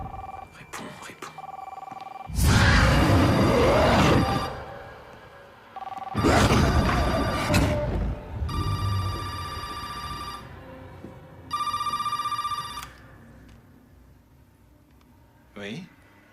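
A telephone rings in two distinct bursts of bright, repeating electronic tones during a tense scene, preceded by loud voices and movement noise.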